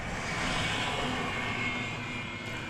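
An Envoy airliner takes off from runway 36 right at DFW Airport in North Texas, its engines a loud, steady roar that holds evenly throughout with no voices.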